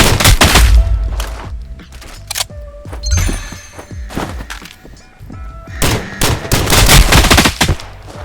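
Gunfire rattles through a match of the VR shooter Contractors Showdown: loud, close automatic bursts and scattered single shots, with quieter pauses between volleys and a heavy barrage returning near the end.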